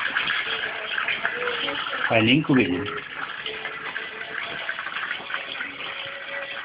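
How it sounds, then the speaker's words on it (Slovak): Water runs from a tap into a bathtub as a steady splashing rush, with a brief louder gush in the middle while a person talks over it. "Aj vodu natočíme"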